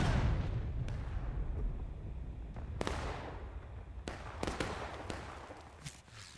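Artillery gun firing a shell in a video game, a deep booming blast that fades into rumble, followed by several sharp cracks and smaller bangs scattered across the next seconds, with no voices.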